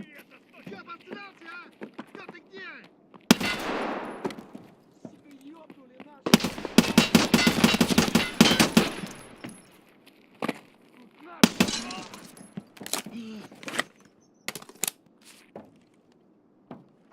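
Bursts of gunfire in an Escape from Tarkov shootout, a loud sustained volley in the middle with shorter sharp shots before and after, mixed with game noise and someone talking at times.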